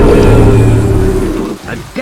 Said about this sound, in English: the Tyrannosaur roared